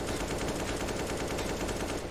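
Rapid Desert Eagle pistol fire in Counter-Strike on the map Cache, during a pro match. The shots run as a dense, continuous burst of cracks over about two seconds, loud and steady, with no voices.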